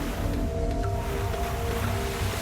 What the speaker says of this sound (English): there's turbulent water all over the place